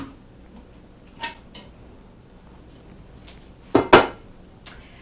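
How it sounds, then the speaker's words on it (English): Metal cooking pot being rinsed and handled in a home kitchen, heard as a few sharp clanks and knocks, with one louder double clatter near the end, over quiet background and no talk. "give me just a second to wash my pot out"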